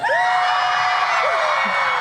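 A Minecraft convention crowd at MINECON 2016 screams and whoops loudly on cue, a dense sustained roar of many voices with high shrieks cutting through.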